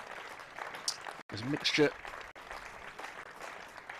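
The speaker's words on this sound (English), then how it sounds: "let's just listen to the applause of the Warwickshire crowd for the captain, Will Rhodes" Warwickshire county cricket crowd applauding their captain Will Rhodes at a County Championship match against Northamptonshire, a steady distant patter of clapping under a commentator's voice.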